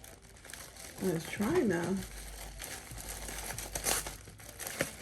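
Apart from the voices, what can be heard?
plastic wrapping being cut open while unboxing a Dooney & Burke bag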